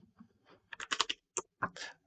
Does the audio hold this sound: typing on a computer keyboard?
yes